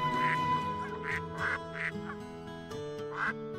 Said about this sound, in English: Why are there so many ducks here?